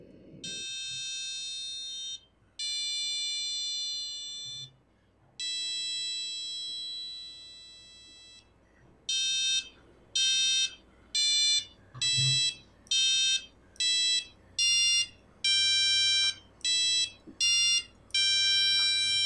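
An educational robot's sound actuator, triggered by pressing its touch sensor, gives out tonal electronic beeps: a few long sustained tones first, then a steady run of short, evenly spaced, fairly loud beeps, with no talking.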